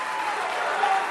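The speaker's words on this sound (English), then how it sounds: "listen to that crowd come alive" A wrestling crowd cheers and applauds at a live independent show, a dense, steady wash of clapping and cheering from a full audience that holds constant for about a second.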